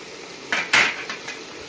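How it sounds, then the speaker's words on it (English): A large cooking pot is pulled out for broccoli rabe and sausage, giving a few clanking metal knocks, with one louder clatter among softer bumps, close by and without talk. "In the meantime, I'm going to get my pot"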